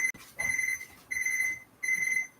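A kitchen timer goes off with three evenly spaced bursts of rapid high-pitched beeping, fairly faint, with nothing else audible between them.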